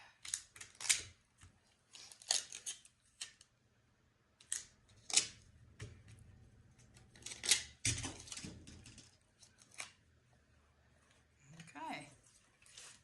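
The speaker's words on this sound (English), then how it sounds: "I will be taking off one side the tape." Tape peeled off one side of a backing for a fluid art piece, in a series of sharp crackling rips and tears in short bursts, some louder than others, with quiet pauses between.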